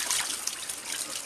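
Clean water splashes and trickles steadily as a face is rinsed, a soft, close, continuous wash with no voices.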